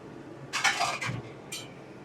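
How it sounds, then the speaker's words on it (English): A pan set on a stovetop burner and moved about before olive oil goes in, giving a few short metallic clanks and scrapes in two brief bursts, close and moderately loud against a quiet room. "we're gonna start getting the pan a little hot here"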